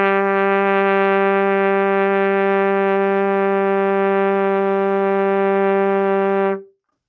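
A low A note held steady by a beginner player, a loud, buzzy, harmonic-rich tone that sustains evenly for about six and a half seconds before cutting off abruptly.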